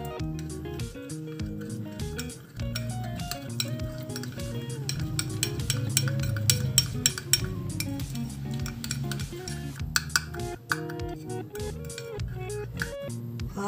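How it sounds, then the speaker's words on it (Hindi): A spoon clinks and scrapes steadily against a bowl while a face mask of turmeric and rose water is mixed, a close, fairly quiet run of rhythmic metallic taps throughout. "इसको थोड़ा सा मिक्स करेंगे"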